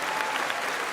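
Dense crowd applause, a continuous close clatter of many hands clapping at steady volume through the whole moment.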